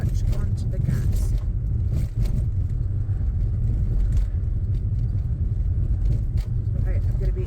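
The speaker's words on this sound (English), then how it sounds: "Clutch down into third and off on the clutch onto the gas." A learner driver's car pulls away in third gear after a clutch change, a low steady engine and road rumble filling the cabin with faint rattles on top.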